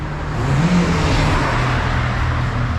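Steady road traffic rolls through a street in Lewes, East Sussex, with a car engine droning and revving close by, a continuous rumble running the whole time with no voices.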